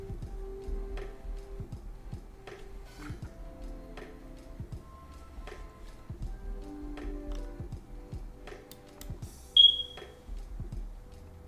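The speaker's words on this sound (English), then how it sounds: "the faster I can change this battery in my fire detector, fire alarm" A fire alarm smoke detector with a low battery gives a single short, high chirp, set against a backdrop of soft, steady ticking clicks in a quiet room.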